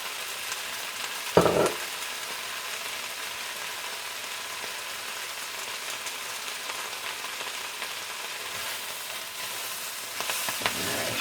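Kale sautés in olive oil in a pan, a steady close hiss and crackle throughout, with a brief sharp clatter early on and a few louder bursts of sizzling near the end.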